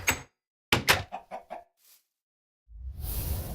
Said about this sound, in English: Oh, there's a little baby chicken.